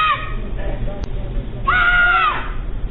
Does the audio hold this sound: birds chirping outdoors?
no